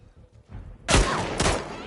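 Gunfire in The Last of Us Part 2 bursts in loud and close after a quiet lead-in, with two heavy shots roughly half a second apart followed by ringing, echoing tails.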